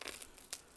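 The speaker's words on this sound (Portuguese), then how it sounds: "eu vou cortar, eu quero que você escute o barulho da pele" A knife slices through crispy roasted porchetta skin, giving a brief, close crackle with one sharper crunch in a short burst.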